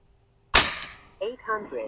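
A single sharp crack from a Pinty P-Force airsoft gun fired at a target, loud and close, followed by a brief trailing rattle.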